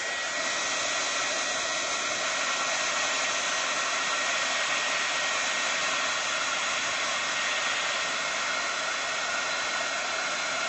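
A handheld hair dryer blows steadily at close range to dry a freshly painted Bible journaling page. The airy roar runs loud and constant for the whole stretch, with no talk over it.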